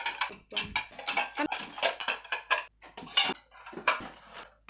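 Freshly washed dishes, plates and cutlery are set into a dish rack one after another, giving a close run of irregular clinks and clatters with brief pauses between them.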